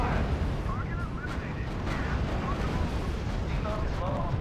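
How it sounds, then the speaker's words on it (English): Heavy, continuous gunfire and artillery roar in a R.U.S.E. real-time strategy battle, a dense, steady rumble with overlapping bursts and faint tonal game sounds on top. "Heavy fire."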